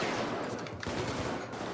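Dense bursts of rapid gunfire in the heist shooter Payday 2, overlapping shots crackling loudly and continuously in a firefight with no talk.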